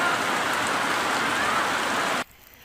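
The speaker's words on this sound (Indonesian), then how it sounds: "hujan deras yang turun dengan intensitas tinggi" Heavy rain pours down steadily during a flood on the south coast, a loud, dense hiss of falling water that cuts off abruptly near the end.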